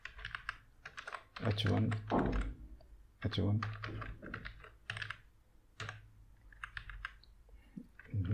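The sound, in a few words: typing code on a computer keyboard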